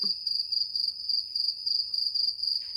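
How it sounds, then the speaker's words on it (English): A cricket chirping sound effect plays as a steady, rhythmic run of shrill pulses, clear and alone. "Cricket sounds."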